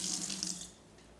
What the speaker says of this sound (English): Put a little water on your hands